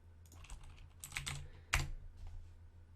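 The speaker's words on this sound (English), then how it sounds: "sorry, all the clicking with the microphone" Faint tapping clicks picked up by a microphone, a few soft scattered taps and one sharper click near the middle, quiet with no talking.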